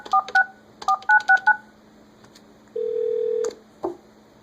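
A Polycom 450 desk phone sends DTMF dialing tones, a quick cluster of short beeps in two bursts, followed by a longer steady tone and a final brief blip, clear and close with no talk.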